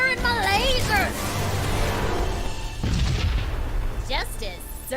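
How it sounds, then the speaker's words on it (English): Laser cannons firing in the space battle game Sunrider, heavy booming bursts under spoken character lines and swooping tonal effects. "I'm firing my lasers!"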